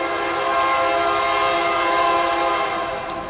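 A loud, sustained train horn blares steadily, close and unbroken, a rich chord of tones holding for several seconds before easing slightly at the end.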